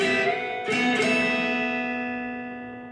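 A single guitar chord on the 12th fret from a guitar lesson, struck once near the mic and left to ring, slowly decaying over three seconds.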